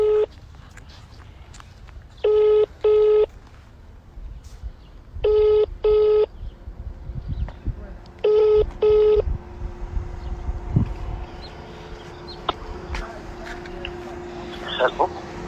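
A telephone ringing while calling a boyfriend, with three pairs of steady electronic ring tones separated by pauses, followed by rustling handling noises and faint background activity.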